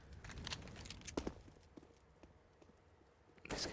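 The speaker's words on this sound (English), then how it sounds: "He's going to hear all the footsteps from Blaine" Footsteps in a Counter-Strike match on the Cache map, scattered soft taps and thuds that fade in the middle and rise again at the end, faint and mixed with low game ambience.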